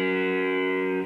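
A single distorted electric guitar note on the 2nd fret of the low E string rings out loud and sustained for about a second before being cut off.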